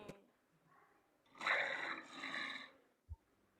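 A lion roars at a zoo in one long, rumbling, broadband burst lasting about a second and a half, set between quieter background noise and a brief thump.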